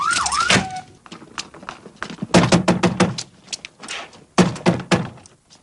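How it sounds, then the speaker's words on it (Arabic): Heavy thuds of a door being forced in a radio drama, a series of loud blunt impacts and bangs, with a rising and falling siren at the start. "اكسر الباب."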